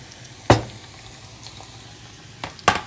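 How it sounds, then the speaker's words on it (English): Onions fry in a pan for korv stroganoff with a steady low sizzle, broken by a few sharp knocks and scrapes of a utensil stirring against the pan. No one speaks. "And let this fry and get the color that we like."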